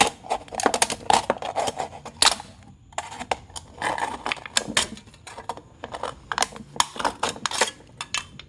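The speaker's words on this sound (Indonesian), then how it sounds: "ini untuk meratakannya kita menggunakan gunting" Scissors pressing and flattening a cut aluminium drink can, giving a run of close, sharp metallic crinkles, clicks and scrapes in irregular bursts with short pauses.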